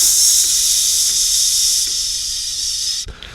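A voice imitates a snake's hiss through a vintage RCA 'Cooker' valve preamp: one loud, steady, sustained hiss lasting about three seconds before it cuts off abruptly.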